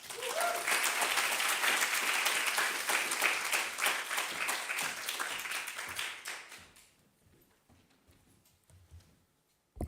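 Sustained audience applause at an academic research event, a dense crowd of clapping hands that holds steady for several seconds, then thins and fades away to near silence.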